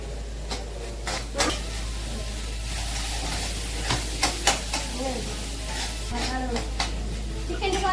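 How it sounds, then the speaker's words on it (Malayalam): Onions sautéing with ginger garlic paste in a pan, a continuous close sizzle broken by scraping stirs and clinks, with a voice speaking over the cooking. "ഇനി നമുക്ക് ഉള്ളി നല്ലോണം വഴറ്റിയ ശേഷം നമുക്ക് ഇഞ്ചി വെളുത്തുള്ളി പേസ്റ്റ് ഇട്ട് കൊടുക്കാം"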